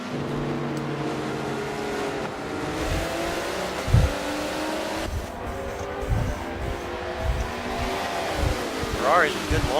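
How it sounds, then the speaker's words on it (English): Several GT race cars in a sim racing endurance championship launch together off the green flag, engines revving and rising in pitch as they accelerate hard, with a steady mechanical roar under commentary. "Ferrari's a good launch on the green flag"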